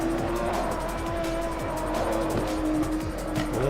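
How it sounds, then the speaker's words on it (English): A hypercar on new tyres slides in a racing video game, its tires letting out a loud, continuous squeal over the droning engine as the car drifts through the corner, with no voices. "a little bit of brake, starts to have a massive slide, but then catch it."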